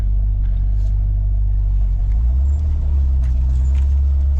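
A vintage Chevy C10 pickup that had sat unused for 33 years rumbles as it rolls along, giving a loud, steady low engine drone throughout with no talking.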